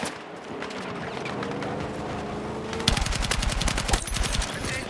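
Rapid video game gunfire crackles in dense, loud bursts that build into near-continuous automatic fire in the second half, over a steady rumbling game background.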